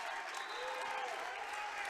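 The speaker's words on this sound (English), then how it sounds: "the crowd now is really back into this game" Dense, steady crowd noise fills a high school boys basketball gym during a Greencastle at Waynesboro game, applause and cheering sustained at an even roar throughout.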